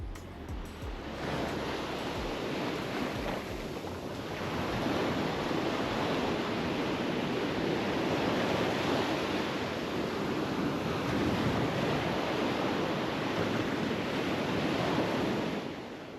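Surf washing steadily onto Haeundae beach in Busan, a broad continuous roar of waves with wind on the microphone, loud and unbroken throughout.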